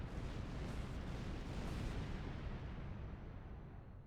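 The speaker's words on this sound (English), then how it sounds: "We're going to shoot this pocket of Metreon gas" A pocket of Metreon gas explodes after being shot in the space game Star Trek Online, a loud, sustained broadband roar and rumble that fades slightly toward the end, with no voices.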